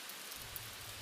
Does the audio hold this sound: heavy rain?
yes